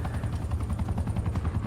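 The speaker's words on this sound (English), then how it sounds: "My chopper's doing all the work for me." A support helicopter in Call of Duty: Black Ops Cold War thrums steadily with a low rotor chop, overlaid by bursts of rapid gunfire throughout, loud and continuous with no talking.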